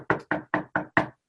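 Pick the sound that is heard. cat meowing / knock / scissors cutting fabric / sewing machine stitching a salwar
knock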